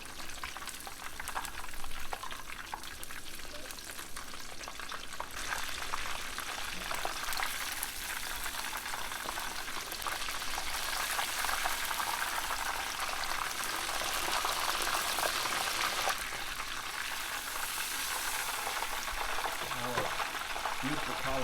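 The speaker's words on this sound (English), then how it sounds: "oil is over 300 degrees Fahrenheit, so we can put in our katsu" Chicken katsu fries in oil heated above 300 °F, giving a steady, dense sizzle and crackle that holds for a long stretch at an even, moderate level, with no talk over it.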